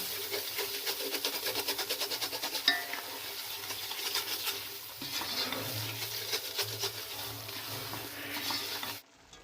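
A spoon scrapes steadily around a pan as sooji halwa with milk is stirred and roasted, a continuous gritty rhythmic stirring with a soft sizzle, close and even throughout until it stops abruptly.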